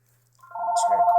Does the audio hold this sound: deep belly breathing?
no